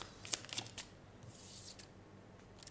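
Tarot cards being drawn and laid out, a few crisp papery snaps and slides close by, then a longer soft shuffle and scattered light taps.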